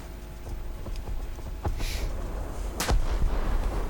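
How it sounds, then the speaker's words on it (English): Warship cannon shells firing during a naval battle in the War Thunder video game, with a bot cruiser nearby: heavy booming shots recur over a steady rumble, the loudest blast near the end. "I'm just sort of lobbing shells at this Omaha because I can't do anything else."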